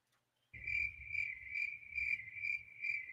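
Crickets chirp in a steady pulsing rhythm, played as a comedic gag sound effect after a joke bombs: a close, clear insect trill repeating about every half second over a low rumble, with no voices.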